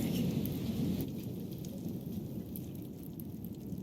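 A thunderstorm in the video game Life Is Strange: dense, steady rain roars close with a low rumble of thunder underneath, continuous and loud throughout.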